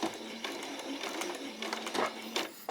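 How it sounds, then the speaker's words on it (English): A sewing machine runs back and forth across a doll's skirt fabric, giving a continuous close buzzing whir with small rhythmic clicks and brief jolts as the stitching changes direction. "You can either hand stitch it, or you can just run across it, backwards and forward it across on a machine."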